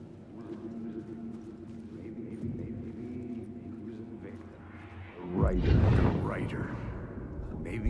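Horse hooves galloping in Alan Wake 2, a loud burst of thudding, clopping steps rising suddenly partway through over a low droning background, with a voice speaking earlier.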